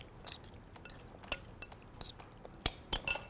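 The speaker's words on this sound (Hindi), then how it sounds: "इसमें हम ऐड करेंगे अदरक और लहसुन का पेस्ट, ठीक है जी। और इसको आप अच्छे से मिक्स कर देंगे" Ginger and garlic paste stirred in a pan with a spoon, soft faint scraping and several light metallic clinks against the pan, spaced irregularly over a quiet kitchen hiss.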